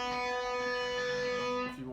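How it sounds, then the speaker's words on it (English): A single open B string on a standard-tuned guitar is plucked once and rings on as a steady, sustained tone with no voices. "Standard tuned guitar, so my B string sounds like this."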